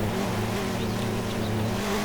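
A 4x4 off-road vehicle in a driving game released in 2011, its engine revving loud and close in a steady droning accelerating note held throughout, with no talk over it.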